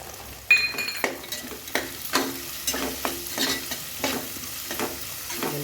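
Cashews sizzling in hot oil in a pan for mushroom biryani, with a steady frying hiss broken by repeated clinks and scrapes of a spoon stirring.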